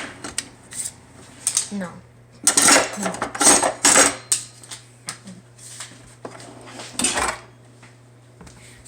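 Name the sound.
someone getting a knife from a kitchen drawer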